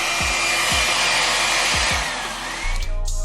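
A hair blow dryer runs steadily during a blowout on a kinky straight U-part wig, a loud continuous airy roar with low thumps and brief shifts in pitch near the end.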